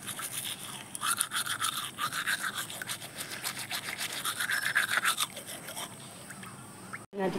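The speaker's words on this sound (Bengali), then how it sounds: "এই যে এবার ব্রাশ করতে যাবো" Teeth are brushed with a toothbrush in rapid, wet, scrubbing strokes close up, running continuously for several seconds before a brief pause.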